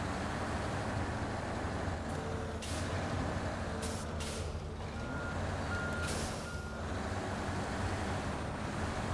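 A truck maneuvers in a video game, its reversing alarm beeping repeatedly over a low engine rumble, with short hisses resembling an air brake.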